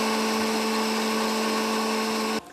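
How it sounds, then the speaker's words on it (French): A repaired kitchen blender runs at a steady high-pitched whine with a strong motor hum, close and loud, then cuts off abruptly near the end. "Vous voyez ce mixeur-là"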